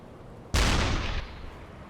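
A deck gun fires from a U-boat in the submarine game UBOAT, one sharp, loud blast at close range followed by a rumbling, fading tail.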